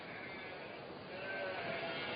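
Sheep on coastal pasture in South Australia give a faint, drawn-out bleat or two beneath a constant layer of background noise.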